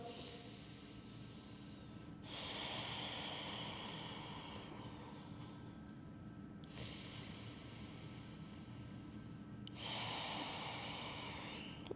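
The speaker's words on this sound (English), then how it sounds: "steady breathing in and out your nose, Ujjayi" Slow, steady Ujjayi breathing in and out through the nose during a vinyasa yoga flow, with long breathy airflow swells recurring every few seconds. The breaths are close and soft but clearly audible above a quiet background.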